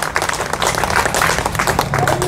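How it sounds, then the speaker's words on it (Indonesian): A congregation at a church service cheers and claps in praise, a dense burst of applause and shouting voices filling the space, loud and continuous with a preacher's voice mixed in. "Berikan sorak-sorai buat Tuhan Yesus."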